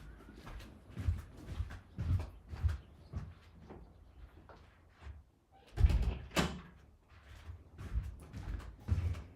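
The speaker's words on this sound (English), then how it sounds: "I'm going to close the door" A door is pushed shut indoors, with a series of knocks, thumps and handling bumps spread across the stretch and one sharper slam near the middle, fairly close and otherwise quiet.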